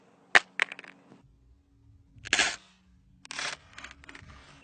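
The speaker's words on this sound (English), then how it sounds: "I'm going to try and drop it face down, see if it would crack." A smartphone dropped face down onto its rear glass, striking with a sharp close clatter and short bounces, followed by rustling as it is picked up, no talking.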